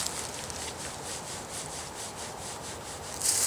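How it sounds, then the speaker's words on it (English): Palms rubbing briskly over the lower back at the kidneys, a steady rhythmic friction swish repeating close and alone, growing a little louder at the end. "Then put your hands right on your back and you just rub the kidneys."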